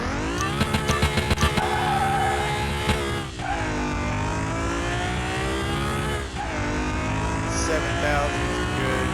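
Renault Clio V6 Sport engine in a racing video game, revving hard with a sustained high-pitched drone that climbs through gears, dips briefly at shifts around 3 and 6 seconds, then pulls again; a voice talks faintly underneath.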